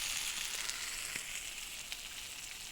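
Sausages and patties fry over a campfire in the Kaimanawa Ranges, a faint, steady sizzle with occasional small pops and crackles.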